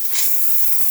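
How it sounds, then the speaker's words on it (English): A Breville espresso machine's steam wand letting out a loud, steady hiss of steam that swells at the start and then holds constant for about a second, close by with no voices. "Steam of this machine, working great."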